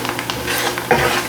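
A spoon scrapes and stirs a flour roux with garlic in a pan, with a soft sizzle underneath and quick, irregular scraping strokes close by. No one speaks.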